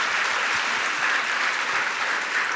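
An audience claps steadily in honour of a woman judge, a dense sustained round of applause from many hands that stays even and loud without any voices over it.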